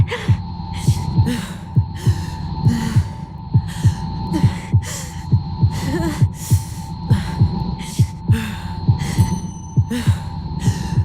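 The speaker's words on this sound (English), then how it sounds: "My heartbeat's slowing down." A pounding heartbeat in Tell Me Why, a steady thumping pulse at a racing pace over a constant low hum, with breathy gasps mixed in.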